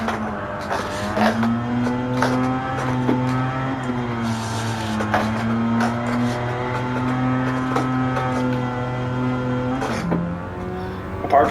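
A D1 drift car in Gran Turismo 7 holds a long, loud engine drone with tonal tire squeal, sustained through a slide, briefly dipping then rising again near the end; no talk.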